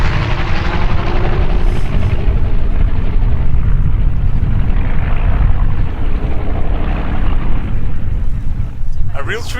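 Heavy, rumbling roar of an aircraft making a low pass, loud and broad with a wind-buffeted, chopping texture that holds steady throughout the stretch, fading slightly toward the end.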